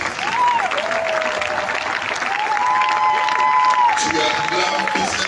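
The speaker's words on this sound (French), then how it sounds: "Acclame très fort. Tu acclames le Seigneur Jésus-Christ." A church congregation applauds and cheers loudly and continuously throughout, with a voice carrying over the crowd noise.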